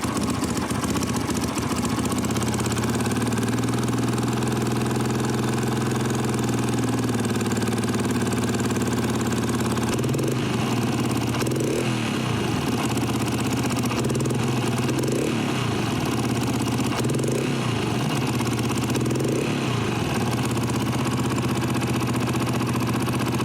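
A Yamaha YBR 125 motorcycle fitted with an ethanol conversion kit runs close by, a steady mid-pitched single-cylinder engine drone with a clattery idle and a few small shifts in tone, no voices.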